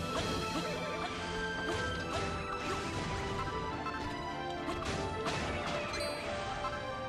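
Stained glass shatters in the video game Dragon Quest Builders 2, a dense run of crashing, tinkling breaks and smacks layered over busy game music, with no talk.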